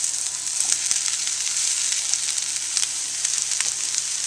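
Mushrooms hit a pan of softened onions and peppers frying for a frittata, producing a continuous close sizzle with scattered small crackles and pops, steady throughout with no talking.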